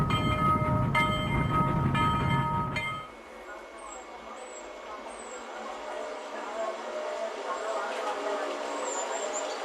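A train on the Curitiba-Paranaguá railway through the Serra do Mar rumbles loudly and heavily for a few seconds, then drops to a softer, steady rolling clatter with faint high squeals from the wheels.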